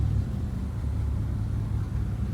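A 1954 Chevrolet Bel Air street rod engine idling steadily after start-up, a continuous low rumble close by with no talk.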